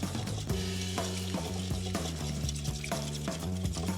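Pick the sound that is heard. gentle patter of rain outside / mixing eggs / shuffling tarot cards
mixing eggs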